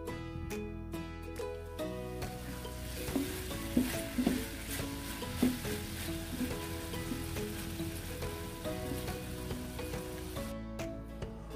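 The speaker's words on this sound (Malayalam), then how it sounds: "2 സൈഡും ചെറുതായിട്ടൊന്ന് ഫ്രൈ ചെയ്തെടുക്കാം." Chicken pieces sizzle and fry on both sides in a pan for chicken mandhi, a steady close crackle with occasional scraping stirs and small pops throughout.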